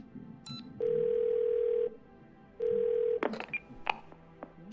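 A phone dials 911 in the video game Twelve Minutes. Two steady electronic dial tones sound, one long and one shorter, followed by a scatter of sharp clicks and small beeps, with no talking.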